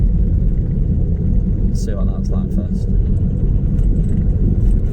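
A car engine rumbles steadily at close range, a constant low drone with a person talking over it.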